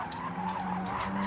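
Car tyres squealing and skidding in a racing video game, a sustained wavering screech over steady engine noise, moderately loud throughout.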